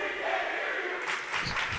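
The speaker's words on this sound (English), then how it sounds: "Crowd getting into it here" A crowd at a girls' volleyball rivalry match between Collinsville and Granite City swells into cheering and shouts, rising noticeably in the second half over a steady gym murmur.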